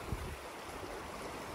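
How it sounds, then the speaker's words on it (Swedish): Swollen forest stream running high after heavy water, a steady broadband rush of flowing water with no breaks, close and continuous, with a brief low thump near the start. "Det brukar inte vara så här mycket vatten i den här bäcken."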